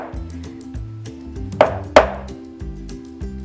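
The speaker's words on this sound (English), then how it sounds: "Okay, I'm gonna crack my egg now." A fake rubber egg is struck against a kitchen surface while almond cookies are being made, giving two sharp knocks in a row amid soft handling noises and clatter.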